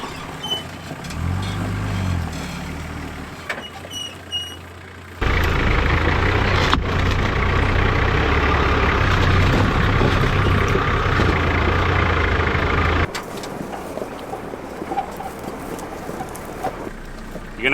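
An off-road 4x4 truck climbing creek rocks, its engine rumbling low and variable, then a steady, louder drive for several seconds before easing back to a quieter idle-like hum.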